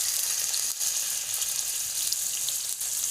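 Chicken sizzles steadily in about one and a half cups of hot oil in a karahi, a loud, continuous crackling hiss heard up close with no talking.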